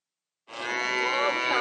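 A calf at an artisanal organic market petting farm in Montigny, Yvelines, where donkeys and sheep are also kept, lets out a single sustained, close lowing call after a brief silence.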